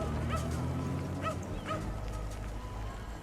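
A cartoonish disaster recovery rescue dog in a city-building game gives a few short, light yips and whimpers over a steady low background hum, with no voices.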